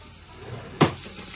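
Garlic and ginger dropped into hot olive oil, sending up a single sudden sizzling burst that quickly settles into a steady low fry; no talking.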